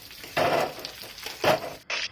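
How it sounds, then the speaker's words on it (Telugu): Onions fry in a pan, their sizzle swelling in short bursts as they are stirred, close and fairly loud, with no talking. "ఆనియన్స్ వేసి మంచిగా ఫ్రై చేసుకోవాలి."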